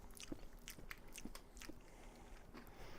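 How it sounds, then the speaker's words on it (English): Someone bites and crunches a Kit Kat chocolate wafer bar close up, with a few crisp, irregular crunches and soft chewing over about three seconds, no talking. "I'm going to mute while I crunch this Kit Kat"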